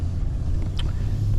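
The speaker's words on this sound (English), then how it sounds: "the wind today must be blowing 20 miles an hour" Strong wind of around 20 miles an hour buffeting a camera microphone outdoors near parking lots, a low rumbling blustery roar that stays steady through the short moment.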